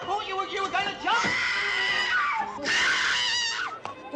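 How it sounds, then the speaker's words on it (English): Shrill, sustained screaming and wailing from a woman on a rooftop in a 1967 comedy film, rising and falling in long loud cries with a second, higher scream near the end. "What's all the screaming?"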